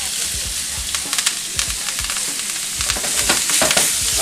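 Duck fries loudly in a pan with butter, rosemary and thyme, giving a continuous close sizzle broken by dense crackles and pops, with no talking.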